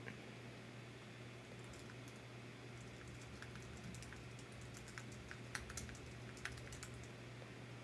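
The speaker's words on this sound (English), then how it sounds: "can I type things in the chat?" Quiet rapid typing on a computer keyboard, a run of light, irregular key clicks that grow a little busier toward the end, set against a low steady hum with no speech.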